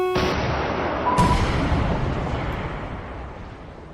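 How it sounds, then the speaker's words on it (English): Anti-aircraft fire in a video game as aircraft are shot down: a sharp blast, then a second heavy boom that rolls off into a long fading rumble, loud and with no talk. "Sounds like we shot down some aircraft"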